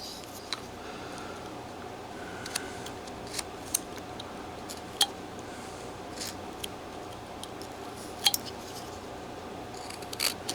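Knife or chisel cutting into wood while carving a figure scene, a steady run of small sharp clicks and snips at close range, spaced irregularly over quiet background.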